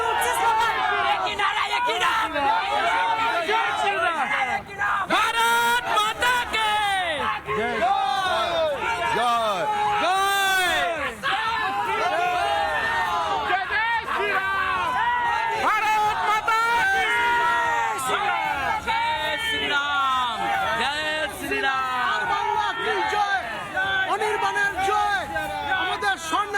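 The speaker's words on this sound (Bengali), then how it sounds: "কিছু না জিজ্ঞাসা করতেই কি উঠছে স্লোগান?" A dense crowd at a Narendra Modi rally in North Bengal shouts and chants slogans, a loud, continuous roar of many voices that rises and falls in waves across the whole stretch without pause.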